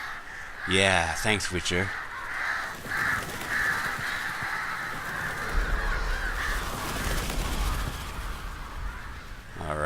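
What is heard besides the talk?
crows cawing in The Witcher 3 video game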